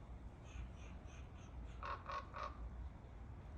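A crow caws three times in a quick, evenly spaced run, its harsh calls distant and fairly faint over a steady low background rumble, with softer bird chirps just before; no speech.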